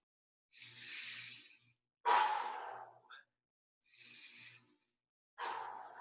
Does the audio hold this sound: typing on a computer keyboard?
no